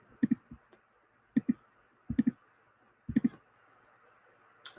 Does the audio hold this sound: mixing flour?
no